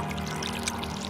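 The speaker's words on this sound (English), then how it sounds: "So let's go get water and water the farm." Water pouring steadily onto garden soil on a farm plot, a continuous close splashing rush with no pauses.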